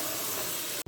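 Hot tadka poured into kadhi sends up a loud, dense sizzling hiss that fills the moment and then cuts off abruptly.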